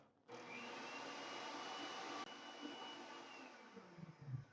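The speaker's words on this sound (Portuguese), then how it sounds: "agora eu vou mais uma vez bater o meu chantininho" Electric mixer whipping chantilly cream for cake slices, switching on abruptly into a steady close whirring drone that holds for several seconds before rattling and sputtering near the end.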